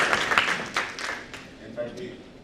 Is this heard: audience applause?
yes